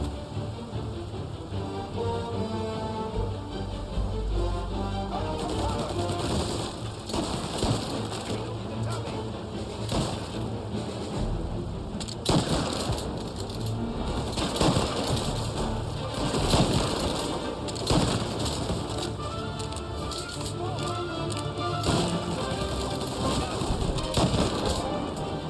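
Tommy gun fire in Mafia Definitive Edition during a shootout with corrupt cops, dense rattling bursts and scattered shots mixed with game music and ambience, busy and continuous, with voices shouting at times.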